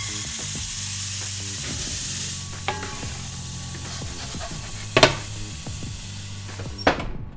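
Ice hits a hot cast iron skillet in an oven with a sustained, fairly loud sizzling hiss, punctuated by a few clunks and knocks from the oven or pan, with no talking.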